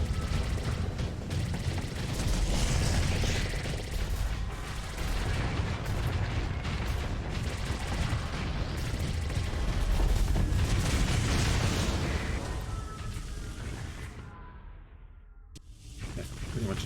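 Missiles detonate in a Starsector space battle, a dense continuous roar of explosions and weapon fire rumbling loudly before fading into a brief lull.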